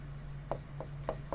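Pen writing on a surface during a lesson, with a few soft scratchy strokes spaced apart under a low steady hum, faint and close.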